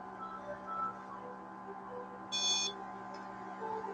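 A short electronic beep from a REM pod alarm goes off once during a spirit box session, a brief high chirp over a steady electrical hum.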